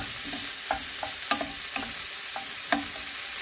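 Tomato frying in a pan, a steady sizzle under repeated light taps and scrapes of a spatula stirring at uneven intervals, close and moderately loud.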